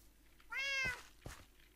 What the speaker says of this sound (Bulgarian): Само дето ми мялка постоянно.